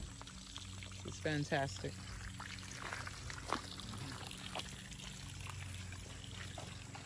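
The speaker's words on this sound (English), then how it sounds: "you still have the 4 faucets where in each area where you can put your jug and get you some clean, crisp, healing water" Spring water pours from a faucet into a jug at the Sacred Healing Springs in Blackville, South Carolina, a steady trickle with a brief gurgling splash near the start, while someone speaks briefly over it.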